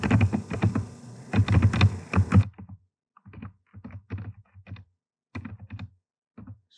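Quick typing on a computer keyboard, a busy dense run of clicks and thunks at first, then sparser scattered bursts of keystrokes separated by short silences, close and fairly quiet.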